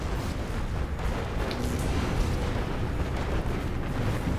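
A factory blows up in a real-time strategy game battle, heard as a dense, continuous rumbling roar of blasts and booms that stays steady and loud throughout with no voices.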